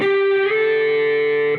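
A single sustained electric guitar note, loud and slightly overdriven, slides smoothly upward in pitch to the 14th fret of the G string partway through, then holds and fades at the end.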